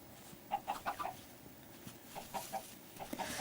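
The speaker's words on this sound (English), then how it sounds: "Because I care dearly for our chicken friends." Chickens in the Minecraft video game cluck in short separate bursts, several in a row at moderate volume over a faint background hiss.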